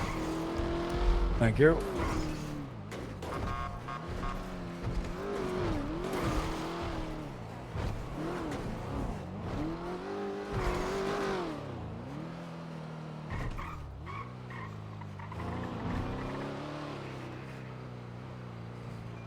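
A car is test driven in GTA role-play, its engine revving and rising and falling in pitch with occasional tire squeals, heard under a person talking.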